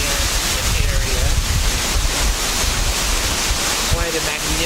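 Water pours over a waterfall at Wilson Dam on the Tennessee River, a loud, continuous rushing roar with wind buffeting the microphone, steady from start to finish.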